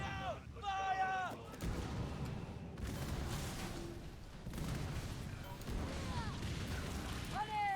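Ship cannons in the Skull and Bones naval game boom repeatedly amid battle noise, with a dense rumbling barrage through the middle and a voice shouting over it.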